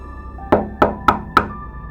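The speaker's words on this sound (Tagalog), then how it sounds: "biglang may kumatok sa pintuan. 3 sunod-sunod na malalakas na katok." Four loud, evenly spaced knocks on a door, close and sharp, each with a short ringing tail, over a low background hum; no talking.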